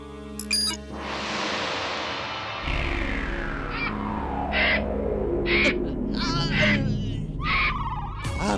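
A cartoon vulture lets out a loud, harsh, drawn-out cry, followed by several short squawking calls, close and prominent against a steady background score.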